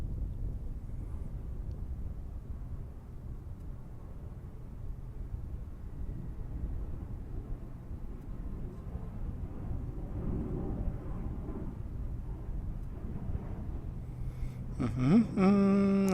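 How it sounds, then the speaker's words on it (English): EVA Air Cargo plane taxiing at Chicago O'Hare, a low distant engine rumble mixed with wind noise on the microphone, steady throughout until a brief sharper tonal sound enters near the end. "There's the EVA Air Cargo. I see it taxiing out here."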